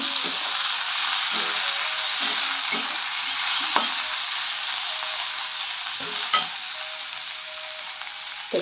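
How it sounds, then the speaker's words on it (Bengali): Carrot, beans, capsicum and green chili stir-fry in a pan for fried rice, a steady loud hiss of sizzling oil broken by rhythmic scraping and tossing strokes of a spatula. "এখানে গাজর, বিনস, ক্যাপসিকাম, কাঁচা লঙ্কা দিয়ে একটু ভেজে নিয়েছি।"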